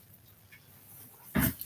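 A dog gives a brief, loud whimper near the end, close by, after a stretch of quiet room noise.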